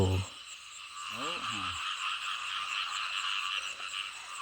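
Frogs croak in a rain-flooded rice field, a dense steady chorus of calls filling the night air. A voice briefly speaks near the start.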